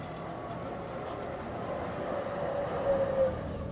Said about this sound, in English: its old trams